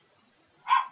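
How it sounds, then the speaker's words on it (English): A single short burst from a dog, barking once at close range after near silence, loud and alone with no talk over it. "My damn dog was freaking out"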